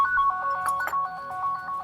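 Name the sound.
phone ringtone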